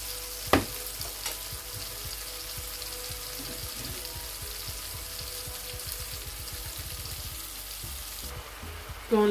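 Gizzards sauté in a pan seasoned with curry and salt, a steady close sizzle broken by rapid clicking and scraping stirs, with a sharp clatter near the start and another at the end.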